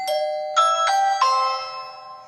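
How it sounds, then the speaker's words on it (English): The outside chime of a Ring Video Doorbell Pro 2 plays a clear four-note electronic melody, each tone struck crisply and left to ring out and fade. "the outside doorbell will also have its own chime effect"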